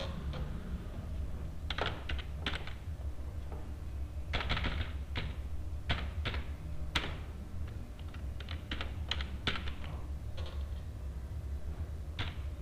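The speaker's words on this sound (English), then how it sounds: "So here we're going to type your final score." Java code being typed on a computer keyboard, a faint, irregular run of key clicks and small bursts spread over a dozen seconds above a low background hum, without speech.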